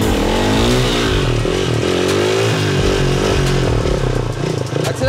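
A wheelie simulator roars like a motorcycle engine, loud and close, holding a steady high rev that rises and falls, with shouting voices over it.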